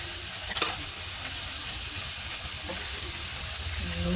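Meat browning in a pan for pansit guisado, a steady sizzle running under the whole stretch, with a few stirring scrapes and a faint low background hum.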